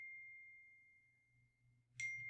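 Phone notification tones chime quietly: a long, thin sustained ding fades out over a low hum, then a fresh, brighter chime strikes near the end, faint and close by.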